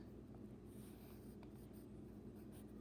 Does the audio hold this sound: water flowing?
no